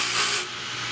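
A metal key grinds against the cutting wheels of a DEFU 2AS key cutting machine, giving a bright hissing rasp that stops abruptly partway through, leaving a softer steady whir alone.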